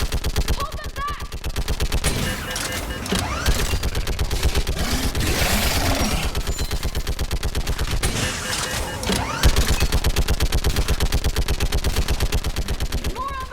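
Rapid automatic gunfire in a Mass Effect 3 Legendary Edition battle on Thessia: dense, loud bursts of shots that hammer almost without pause for the whole stretch, with scattered impacts layered in.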